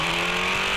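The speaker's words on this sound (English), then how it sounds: "Quick to get the car refired though." A Formula 3 race car's engine idles steadily after being refired following a stall at Winton Motor Raceway, a loud, close, continuous drone with a constant pitch throughout.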